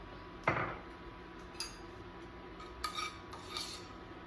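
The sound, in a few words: mixing tomatoes and parsley in a dish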